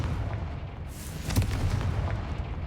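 A Confringo blasting spell goes off in a Fantastic Beasts video game: a booming explosion lands about midway through, over a rumbling low background that keeps going after it.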